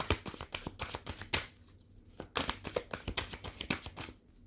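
Tarot cards being shuffled by hand, close and crisp riffling bursts in an uneven rhythm with a brief pause midway, no voices.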